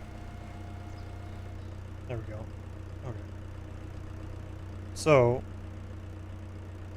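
Tractor engine idling steadily in Farming Simulator 2025, a low constant drone running throughout beneath brief spoken remarks.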